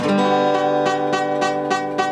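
A plucked guitar note rings with a rattling fret buzz, the string buzzing against the frets, repeated strums at a steady pulse about every third of a second, close and clear, no voices.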